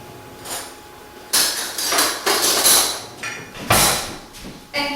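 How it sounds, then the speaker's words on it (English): A spoon clinks and knocks against a bowl and tray while cupcake batter is scooped into paper cases: irregular, close, sharp taps and clatters with short pauses between them, and no talking. "I'm going to fill my cases up."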